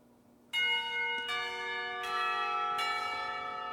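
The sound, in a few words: school bell ringing for lunch in Katawa Shoujo video game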